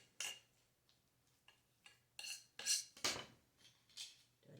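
Boiled eggs pressed through an egg slicer in a kitchen, a handful of sharp metallic clicks and clacks with quiet gaps between them.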